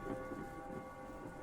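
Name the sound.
thunder sound effect in a horror story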